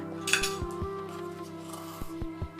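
Metal spoon clinking and scraping against a bowl while semolina and half a teaspoon of baking powder are mixed for kalojam sweets, with a few sharp taps spread irregularly through the moment.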